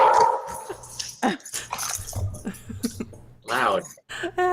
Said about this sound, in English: Another dog came in, I'll bet you.